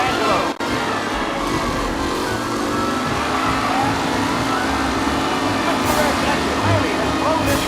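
Race cars roaring around a track in Mafia Definitive Edition, a continuous loud engine drone with revving and passing cars, under an announcer's voice.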